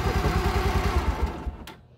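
A warmed-up Bajaj Pulsar 150 DTS-i UG3 motorcycle engine idles with a fast, even low thudding, then is switched off and dies away to near silence after about a second and a half.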